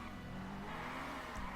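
A 2019 McLaren Senna's engine in GTA 5 Online, a brief sustained revving drone at moderate level with no talk.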